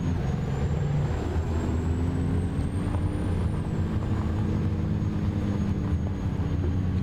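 Semi truck hauling a B-double trailer in American Truck Simulator, rolling out of a driveway with a loud, steady diesel engine drone and a faint rising whine, constant throughout.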